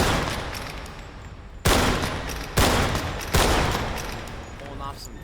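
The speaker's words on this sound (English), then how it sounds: "The Crestfall lever-action rifle. aka pretty much just a Winchester lever-action rifle." A Crestfall lever-action rifle, modeled on a Winchester, fires three loud sharp shots in the video game Grave/Digger, each with a long decaying echo, over constant noisy background.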